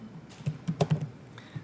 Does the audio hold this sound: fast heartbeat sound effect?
no